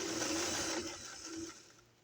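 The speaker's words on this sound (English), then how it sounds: "I'm just sewing along, making sure that I'm on top of that top stitch line and catching the underneath placard" A sewing machine stitches slowly along a top stitch line through a shirt placard while fixing a button gap, a steady whirring hum that fades and slows near the end, heard alone.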